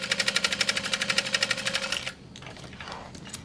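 A sewing machine top stitching a 1/4 inch seam runs in a quick, even mechanical chatter for about two seconds, then stops and leaves softer handling noises of fabric.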